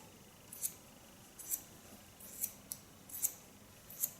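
Normal scissors trimming long curly hair, giving crisp, close metallic snips at a steady, slightly irregular pace, about six distinct cuts over a soft, constant background hiss.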